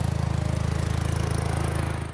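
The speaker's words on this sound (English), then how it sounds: "Larry and his mower are a common sight at the home" Larry's lawn mower runs steadily in the sizable yard of a home, its small engine chugging in a fast, even pulse close by for about two seconds before cutting off abruptly.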